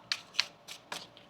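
Tarot cards shuffled in four or five quick crisp riffles, close and fairly quiet, with short pauses between each pass.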